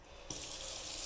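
A tap is turned on over a sink to rinse paintbrushes. After a brief quiet start, water gushes in a steady, even rush.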